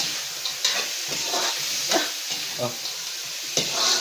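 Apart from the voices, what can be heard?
sautéing sisig in a pan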